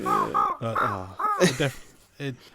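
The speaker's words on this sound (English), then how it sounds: "the crow is the bird that can't sing but sings all the time" A crow caws in a short run of loud, hoarse calls close by, with a voice speaking over and between them.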